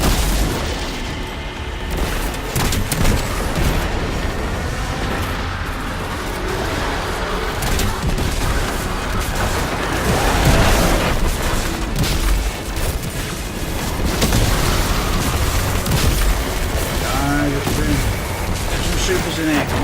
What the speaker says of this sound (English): I'm gonna single nade the boss